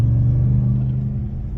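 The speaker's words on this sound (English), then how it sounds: "the supercharger sound and the exhaust is nice" A Ram TRX pickup's supercharged engine rumbles with a deep, steady exhaust drone while accelerating, heard from inside the cabin, fading slightly toward the end.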